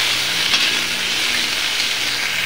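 Pumpkin, potato and chilli frying in a pan, a steady loud sizzle and hiss close by, continuous without a break.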